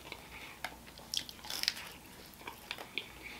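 Close bites into a crunchy Chili's tortilla give a few soft crunches and moist chewing clicks, spaced out over a faint background.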